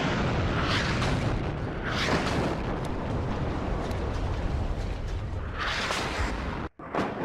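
Artillery shells slam into a gun position in the wartime strategy game WARNO, a loud, unbroken roar of overlapping blasts and rumbling booms that briefly drops out near the end.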